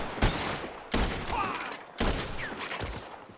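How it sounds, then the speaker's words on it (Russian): Rifle shots in a video game, three sharp loud reports spaced about a second apart, each followed by a decaying rumble. "Вот эта винтовка неплохо стреляет."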